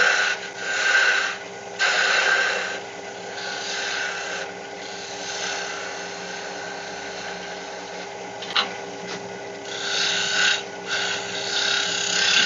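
A wooden egg shaped on a lathe by shear scraping, giving a steady whirring scrape with slow swells and dips and a brief sharp catch partway through, continuous throughout.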